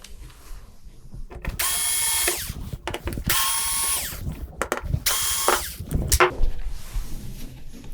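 A powered screwdriver whirs in three steady bursts while driving screws out of the main board of an Insignia NS-39DF510NA19 TV, close up, each burst trailing into ratcheting clicks.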